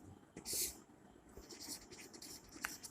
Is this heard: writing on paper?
yes